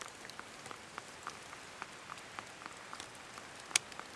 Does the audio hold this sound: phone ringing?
no